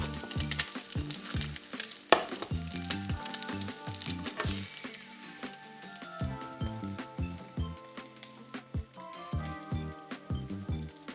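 Garlic fried rice sizzles and crackles steadily in a hot pan, with rhythmic scraping and tossing of a spatula mixed into the continuous frying hiss.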